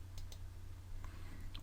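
Calculator keys pressed while numbers are typed in: a few faint, quick clicks spaced irregularly over a low steady hum, no voices.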